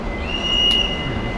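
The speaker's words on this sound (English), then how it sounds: "once this train comes through" A Long Island Rail Road train rolls through Mineola station, a steady rumble with a thin, high metallic wheel squeal that rises briefly in the middle of the pass.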